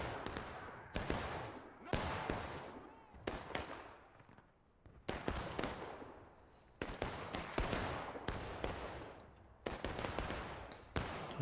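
Repeated volleys of musket fire crack out in a Civil War strategy game, each sharp blast echoing and decaying, arriving in irregular clusters across the battlefield with little pause between them.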